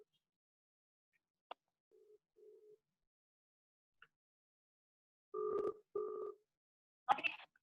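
Mobile phone dialing tones as a call is placed: a couple of faint clicks, then short beeps and two firm dual-tone pulses, ending in a brighter burst, clear and close in a quiet room.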